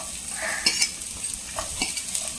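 Onions stirred into a pan of hot oil with cumin, sizzling steadily while a spoon or spatula scrapes and clicks a few times against the pan.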